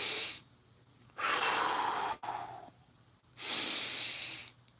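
A person takes slow, deep breaths close up, two long hissing inhales or exhales separated by quiet pauses, with a brief fainter breath between them.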